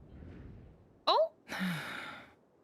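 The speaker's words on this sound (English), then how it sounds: "I heard Yehoda gasp" A female character gasps in a Genshin Impact cutscene: a sharp, brief intake of breath, followed by a longer breathy exhale or sigh, close and clear over quiet background ambience.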